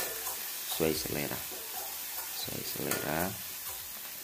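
Ground chili sizzles and fries in a pan for Indonesian tofu in sauce, a steady hiss running beneath a person talking throughout.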